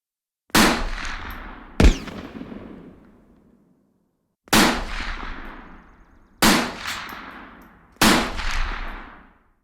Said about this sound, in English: Gunfire echoed off the canyon walls as strikers fired on the train